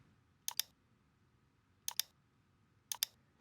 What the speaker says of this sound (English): I'm holding the Option key, click